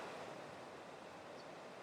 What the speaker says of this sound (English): There's a channel right here next door, which you can hear